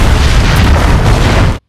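A cabin gas explosion from a Final Destination film, a loud continuous roaring blast filling the whole clip at full strength before cutting off abruptly.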